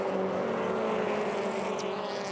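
Bridgestone Toyota GR86 race cars with 2.4-litre flat boxer engines accelerate up the front straight at Teretonga Park, a sustained droning engine roar at full power, steady and loud with no gaps.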